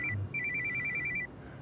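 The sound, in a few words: telephone ringing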